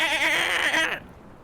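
A single sheep bleat, loud and close with a wavering tone, about a second long, then cutting off to quiet room tone.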